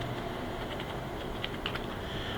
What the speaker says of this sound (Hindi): यहां पे लिख लें जी लॉगिन लिख लें